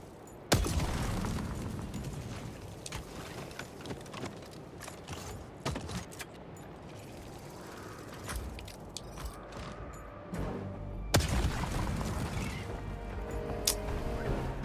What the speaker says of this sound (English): What we were showing previously was the flak rounds, and this is the cluster round.